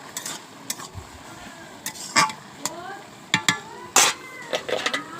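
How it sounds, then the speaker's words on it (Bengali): Bottle gourd curry cooking in a pot on a clay stove, stirred with a utensil, giving scattered scraping clinks and knocks over a faint sizzle. "লাউয়ের তরকারি বসানো হয়েছে।"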